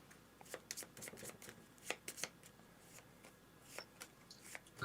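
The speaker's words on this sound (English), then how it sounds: "So I would argue that these get shuffled." A deck of playing cards being shuffled at a board-game table for Power Grid, giving soft riffling flutters and crisp flicks in scattered bursts, close and quiet, with no talk.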